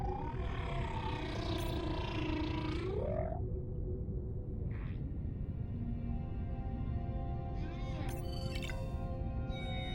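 Whale social calls in the underwater game Beyond Blue: a warbling, sliding moan early on, then scattered squeaks, clicks and short tonal cries over a steady low rumble of ocean ambience.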